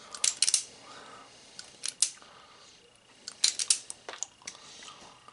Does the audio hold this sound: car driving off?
no